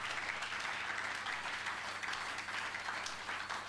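Congregation applauding in a church gathering, a steady, dense wash of many hands clapping continuously, without talk.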